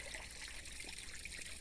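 Water trickling in a vegetable garden bed, a steady bright hiss of running water that continues without a break throughout, close and alone with no voices.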